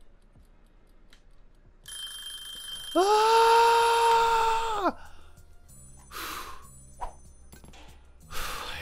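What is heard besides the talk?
kitchen timer ringing in Cooking Simulator video game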